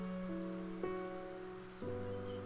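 Steady rain ambience from the Umineko video game pours softly and continuously, with faint tonal music layered over it and small shifts as the notes change. No one speaks.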